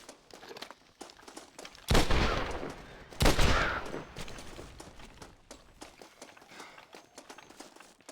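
Gunfire in the video game Red Dead Redemption: two loud bursts of shots roughly a second apart, the second followed by a fading echo, with scattered footsteps and small clicks before and after.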